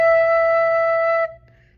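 Recorder sounding a single sustained E note, pure and steady, close and alone, held for just over a second before cutting off cleanly.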